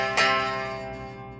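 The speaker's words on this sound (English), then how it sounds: "kind of a bar chord, or a power chord" A single electric guitar power chord, played as a barre shape on the D and G strings, strikes once and rings out alone, decaying slowly over its sustain.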